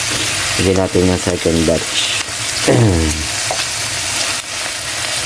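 Pork adobo pieces frying in a pan, a steady loud sizzle running throughout beneath a voice speaking over the cooking.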